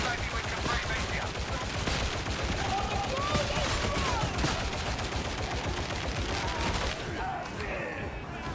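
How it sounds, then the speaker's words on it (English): Dense rapid gunfire in the Forest gameplay demo, continuous crackling bursts layered over game music and effects, loud and sustained, with talk mixed in. "I'm getting shot at, but I'm not getting hit"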